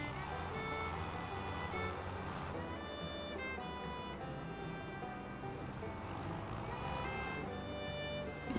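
Steady, continuous engine drone of a big tractor driving in Farming Simulator 25, a dense mechanical rumble with held tonal harmonics that holds level throughout, with no talk over it.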